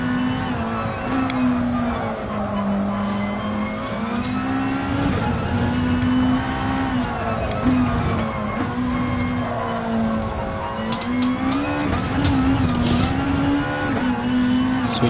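A Gran Turismo race car at Fuji riding a curb, its engine note rising and falling in repeated revving surges over a continuous buzzing rumble through the corners.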